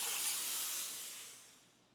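A steam cleaner lets out one strong, close hiss that gradually tapers away over two seconds, with no talking.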